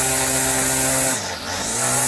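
A repaired small two-stroke weed eater engine runs close by with a steady, buzzing drone. The pitch dips briefly as the throttle eases, then the engine picks back up.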